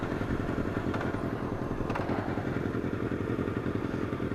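Honda Nighthawk motorcycle engine idling close by, a loud, steady, rapid thumping putter that holds an even rhythm the whole time with no talking.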